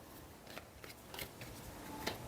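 Tarot cards are handled and shuffled quietly up close, giving soft papery flicks and brief slides in a short irregular sequence with no talking.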